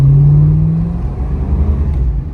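The 350 V8 in a 1988 Chevy G20 3/4-ton van revs in a short burst, a loud low rumble that rises briefly then settles back to a steady idle-like drone, close by with no speech.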